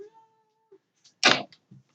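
An alley cat gives a single clear meow, loud and close, after a few soft faint sounds and before a brief quieter trailing noise.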